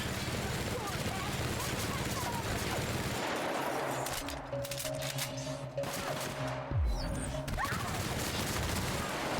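Dense bursts of machine gun fire in The Outer Worlds game rattle on through a chaotic battle, loud and rapid, mixed with other engine-like tones and a voice speaking over the shooting.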